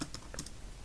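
Computer keyboard keys tapped in a quick light burst of several clicks while entering a password, close and faint, with no voices.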